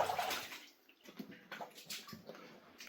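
Water rushes and splashes steadily through a slate quarry mine, soft and somewhat distant, with faint irregular splashes across the stretch.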